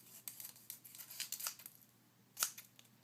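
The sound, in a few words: cutting paper pieces together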